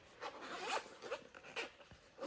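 Quick, close zipper pulls on an Oakley sunglasses case, a few raspy strokes in a short burst, soft and alone.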